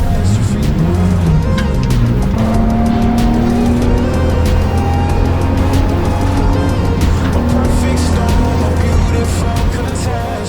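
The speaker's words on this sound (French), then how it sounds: "on va célébrer la BMW 530 groupe 1 de Just Racing" Loud, continuous engine roar and tire noise from the Josse Racing BMW 530 Group 1 race car on track at a V de V circuit endurance event, with rising and falling revs throughout.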